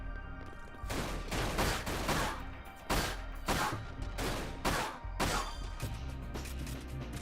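Repeated pistol gunfire in the video game Dirge of Cerberus: Final Fantasy VII, a string of loud, sharp shots arriving in clustered bursts over a continuous low game backdrop.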